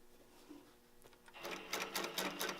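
An Autopilot Mach 3 quilting machine bastes along the bottom edge of a quilt at three stitches per inch, starting with faint clicks and then breaking into a busier, rapid mechanical rattle.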